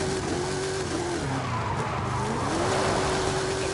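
Race cars in Forza Horizon 5 during a road race, engines roaring loudly with prolonged tire squeal and skidding that wavers in pitch across the whole stretch.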